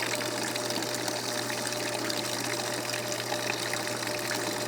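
A running swamp cooler with water flowing over its cooling pads makes a steady, even rush of water under a low mechanical hum, constant and close throughout.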